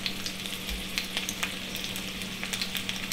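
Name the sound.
breakfast sausages sizzling in a pan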